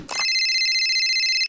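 A mobile phone ringtone plays a short, bright electronic tone that holds steady for just over a second after a brief noisy onset. It sounds clear and close, with no voices.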